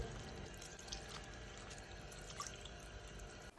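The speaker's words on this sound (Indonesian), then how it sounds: "pastikan ketika membilas, tangan menghadap ke bawah agar air jatuh mengalir ke bawah" Steady running water from a tap as hands are rinsed, a soft continuous broadband wash with faint drips, fairly quiet and without speech.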